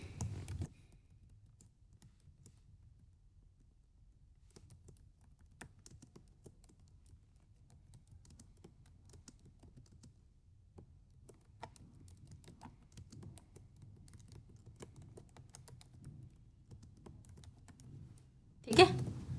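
Soft, steady typing on a computer keyboard, light rapid keystrokes in loose bursts with a louder click near the end, quiet and close.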